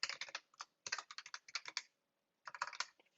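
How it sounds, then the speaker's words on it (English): Typing on a computer keyboard, quick bursts of crisp clicking keystrokes with short pauses between them, close and clear with no voice. "when we type in the service operation and user data"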